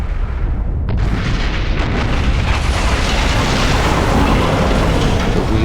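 A rocket launching in the video game Command and Conquer, heard as a loud, sustained roaring blast that swells after a brief sharp onset and keeps rumbling densely throughout.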